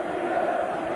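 A football stadium crowd at Newcastle United against Brighton in 1984 roars steadily in a Kevin Keegan farewell, a broad sustained cheer from thousands of fans that holds at full loudness throughout.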